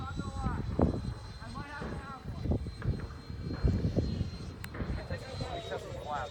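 A Freewing 80mm T-33 RC model jet flies its maiden flight in a bumpy crosswind at LFE, giving a steady, distant turbine whine under gusty wind and people talking.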